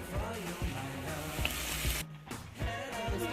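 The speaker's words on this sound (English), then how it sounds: "Just adding the tomato to the pot" Tomatoes go into a hot cooking pot for tomato soup, giving a steady close sizzle and frying hiss with soft rhythmic low stirring knocks throughout.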